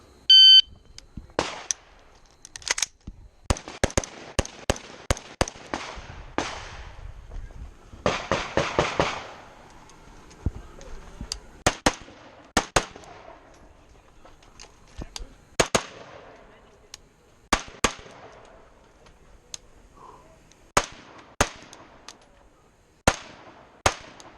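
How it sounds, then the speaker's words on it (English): Gunfire at a tactical two-gun shooting match in Michigan, with sharp, loud reports ringing out singly and in rapid strings, some clustered in quick bursts, separated by quieter gaps with faint background activity. "Just got to keep on shooting."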